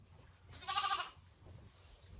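A newborn ram lamb lets out one short, wavering bleat, close and fairly soft, in a quiet lambing shed.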